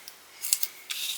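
Scissors snipping through paper at a crafting table, two short close crisp cuts with a brief pause between.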